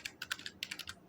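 Quick burst of keys typed on a computer keyboard to enter a command, about a dozen close, crisp clicks in an uneven rhythm with no talk.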